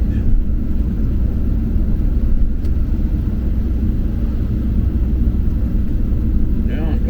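A car driving slowly on slushy roads, with a steady low engine and road rumble filling the cabin throughout and a person talking over it.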